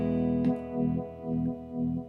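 Electric guitar played through a Cornerstone Colosseum pedal, a sustained distorted chord with a swelling, pulsing modulation repeating about every half second.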